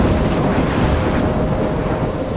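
Stormy weather in the video game Life is Strange, a steady roar of wind and rain with low rumbling thunder filling the whole stretch, loud and unbroken, no voices.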